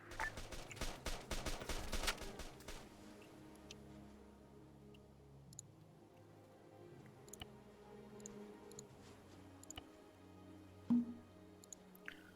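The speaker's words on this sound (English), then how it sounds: "You hear those shots?" Rapid bursts of gunfire in a video game, a dense crackling volley up front, then sparse distant single shots and faint ticks spread over a quiet background.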